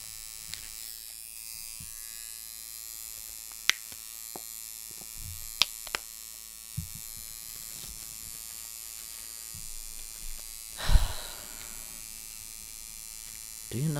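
Steady electric buzzing of a tattoo machine needle, close and continuous, with a few brief clicks and a louder thump near the end, no talking.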